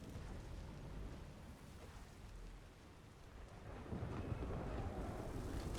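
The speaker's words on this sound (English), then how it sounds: "Oh, he shoots lightning." Lightning spell cast by an enemy in modded Skyrim, heard as a continuous crackling, rumbling roar like a thunderstorm, loud and sustained, surging stronger near the end.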